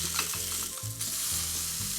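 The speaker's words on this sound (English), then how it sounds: "turn our scallops now" Sea scallops sear in olive oil in a frying pan, giving a close, steady sizzle and crackle with a few soft bumps as they are turned.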